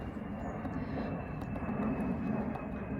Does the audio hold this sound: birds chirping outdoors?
no